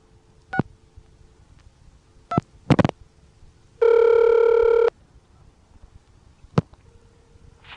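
An ITT Pentaconta crossbar telephone switch answers a dialed vacant code: scattered clicks and relay pulses, then a steady, loud tone lasting about a second, followed by more sharp clicks over a low hum.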